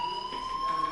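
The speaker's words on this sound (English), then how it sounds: "Hey, do you hear that fire alarm?" A fire alarm rings steadily in the video game Life is Strange, a continuous electronic tone with high pulsing overtones, moderately loud and unbroken throughout the short stretch.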